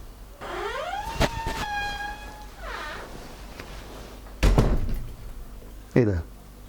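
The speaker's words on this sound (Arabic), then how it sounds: "مين اللي دخل وقفل الباب؟" A door in an apartment opens with a long rising creak, then bangs shut twice. The bangs are close and loud, and a voice speaks over part of it.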